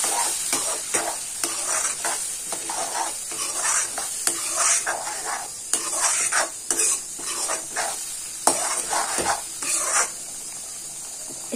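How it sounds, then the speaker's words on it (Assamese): Spices including chicken masala, Kashmiri red chilli and dried fenugreek fry in a pan for dal makhani, a loud, close sizzle broken by repeated scraping stirs in an irregular rhythm, with no one talking. "এতিয়া মই এই মছলাখিনি ভালকে ফ্ৰাই হ'ব দিম।"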